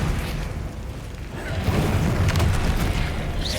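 Descendo spell slamming an enemy down in the Hogwarts Legacy video game: a loud, sustained boom and rumble that swells and thickens partway through, with crackling debris and a bright swish near the end.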